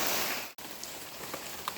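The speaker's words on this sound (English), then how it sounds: "rain is letting up" Steady rain falls on a muddy outdoor walking trail, a dense even hiss with a few scattered drops pattering close by, briefly cut out once before continuing.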